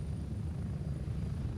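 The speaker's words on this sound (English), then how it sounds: "this is my helicopter ride, my chopper ride through that setting" Helicopter rotors in the video game Gray Zone Warfare, a steady low droning whir with a constant engine hum, continuous and fairly loud, no speech.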